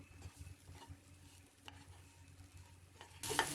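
Potato podi roast stirred and roasted in oil in a pan over low heat, with a soft, steady sizzle, faint stirring scrapes and a louder burst of frying at the end; no one speaks.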